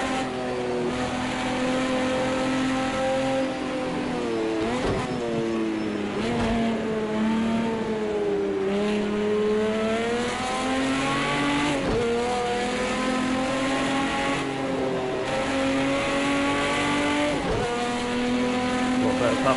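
Race car engines roar in the Project Cars 2 racing game, a Porsche running close in the slipstream, with loud, steady engine notes climbing and dropping through repeated gear shifts, some tire noise, and someone talking over the racing.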